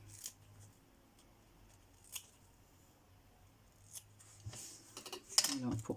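Scissors making small snips into foam while crafting a photo holder, a few quiet, sparse cuts near the mic, with a quicker cluster of crisp snips at the end.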